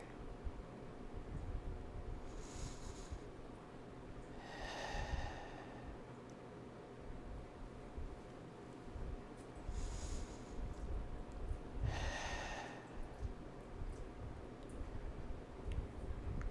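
Deep breathing during a yoga pose, with four slow, audible breaths spaced a few seconds apart, close and soft against a quiet room.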